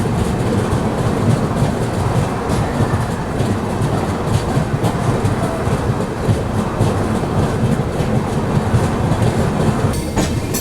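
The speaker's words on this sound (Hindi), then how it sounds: "हमारी जो ट्रेन है वो भी चल रही थी इस वाली लाइन पे" Duronto Express passenger train rolling along the rails, a continuous loud rumble with rhythmic clickety-clack of wheels over joints, heard close from on board with no talking.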